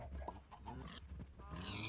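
Pigs in the Minecraft Agrarian Skies modpack, a run of repeated grunting oinks from several animals, close and steady, with no voices over them.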